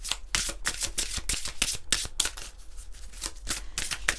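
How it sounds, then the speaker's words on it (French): Tarot cards being shuffled by hand during a reading, a rapid series of crisp riffling bursts repeating steadily for several seconds, close and fairly loud with no talking. "moi je veux battre les cartes"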